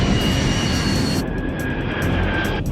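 Steady, loud roar of a DHL jet airliner's engines during descent, broadband and continuous with a faint whine, unbroken for a few seconds with no talk.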